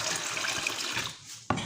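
Moderately warm water pours steadily into desi wheat flour for kneading dough, a continuous splashing rush close by that stops abruptly near the end, followed by a brief clatter.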